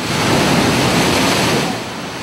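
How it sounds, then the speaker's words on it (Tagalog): Huge waves driven by Typhoon Pablo pound the shore at Tarragona, Davao Oriental, in a loud, continuous roar of surf and wind, with no voices over it. "Sa lakas ng paghampas ng naglalakihang alon"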